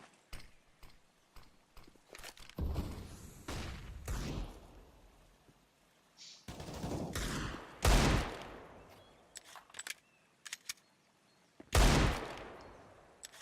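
Upgraded pistols such as Desert Eagles, a Five-SeveN and a P250 fire in a competitive CS:GO match, sharp single shots and quick bursts cracking at irregular intervals with short pauses between volleys.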